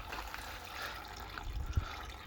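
Oil and coolant streaming together out of a dead Honda K20 engine in a Civic K-swap, a close, continuous liquid trickle and splatter with a few uneven spurts.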